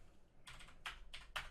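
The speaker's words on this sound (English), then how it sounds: "I'm sure you guys hear me typing like madman." Fast typing on a computer keyboard comes in short clattering bursts separated by brief pauses, close and fairly quiet, with no talking.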